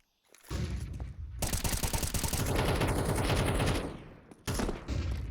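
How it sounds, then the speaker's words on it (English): Gunfire in Counter-Strike on the Ancient map, shots sprayed through a wall in a sustained loud rapid burst lasting several seconds, a brief pause, then another burst at the end. "Nav putting a few shots through the wall"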